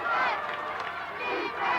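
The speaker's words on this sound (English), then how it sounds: "there's the Ledyard crowd again, chanting defense" The Ledyard high school football crowd chants together in the stands during a game, a steady, loud roar of many voices that lasts throughout without a break.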